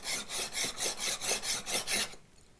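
A hand plane is lapped flat on an abrasive surface in a woodworking shop, giving about nine regular rasping strokes, close and steady, before stopping.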